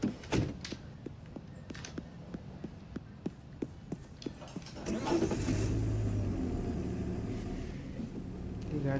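A car in Car Dealer Simulator: a run of sharp regular clicks and thunks, then an engine catching around the midpoint and settling into a steady, louder running drone.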